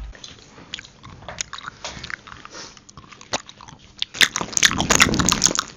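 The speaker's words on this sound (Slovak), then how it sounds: "Ja to ešte furt žujem inak." Close, wet chewing of sticky Swedish gummy candy, with squishy mouth sounds and small crunches that grow louder and busier toward the end.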